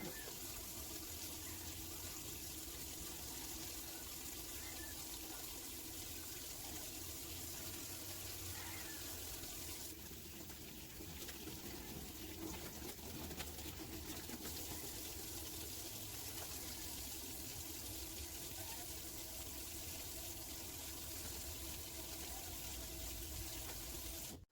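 Tap water runs steadily into a sink as hands are washed during a nursing vital-signs demonstration, a constant soft hiss that continues throughout with slight splashing changes partway through.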